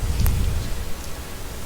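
Lightning strikes and thunder in the video game Tower of the Mad Mage, a loud low rumble with a sharp crack near the start that fades into a rolling, rain-like wash.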